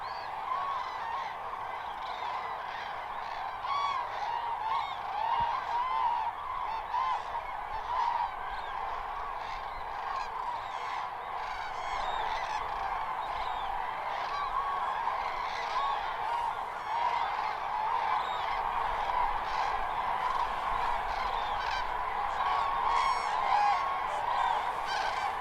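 Grey geese honking as they leave to feed on corn stubble, a dense continuous chorus of many calls, steady and moderately distant, with no talk.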